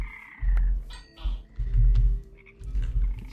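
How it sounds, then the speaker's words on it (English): Frogs croaking in the Minecraft Betweenlands game world, three loud deep croaks in a row, each about half a second long with short gaps, alone without talk. "Hi, frogs."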